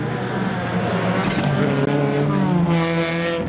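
Race cars on an ice track at round 1 of the 2019 G Series ice racing roar past at full throttle, loud, continuous engine drone with rising whine and hissing tires, no voices over it.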